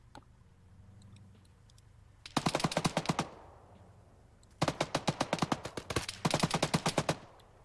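A .50 caliber machine gun firing in Arma 3, two rapid sustained bursts of sharp, evenly spaced shots, the second longer with a brief pause, over a low background rumble.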